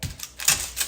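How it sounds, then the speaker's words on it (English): A knife slicing an onion in half for a batch of canned turkey broth, giving two or three crisp, close cuts against a board within a second. "I'm gonna cut it in half."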